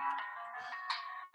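An incoming-call phone ringtone chimes in a bright, melodic electronic tone, a short tuneful phrase repeating and swelling again near the end, moderately loud and alone.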